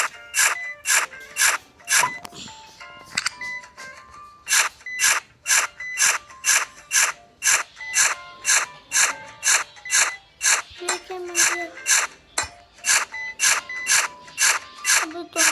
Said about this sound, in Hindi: हम बस खोद ही जा रहे हैं।